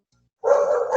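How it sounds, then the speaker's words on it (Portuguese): A dog barks once outside a house in the street, a single loud sudden bark after near silence, held briefly. "deve ter alguém passeando com o cachorro na frente de casa"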